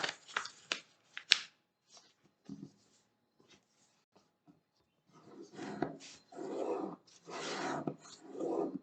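Scissors cutting a portion out of a folded A4 paper sheet, producing quiet, close rustling and snipping bursts, a few sparse ones early, then denser crinkling near the end.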